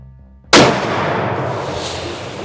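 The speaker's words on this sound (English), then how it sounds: "I think that's what a shotgun does right there, folks." A single loud shotgun blast fired at a deer while hunting, an abrupt close crack after brief quiet, followed by a long, slowly fading outdoor echo and rumble.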